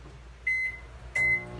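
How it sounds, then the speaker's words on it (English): A household microwave oven warming a pumpkin muffin batter ingredient, heard as a steady low hum with two short high beeps, each clear and close, with no talk. "I'm just going to throw it in the microwave."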